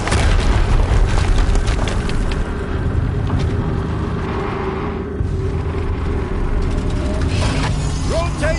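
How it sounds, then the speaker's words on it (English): A continuous, heavy rumbling blast roars loud and close, filling the whole stretch with dense, booming explosion noise, with a voice talking over it. "Another explosion."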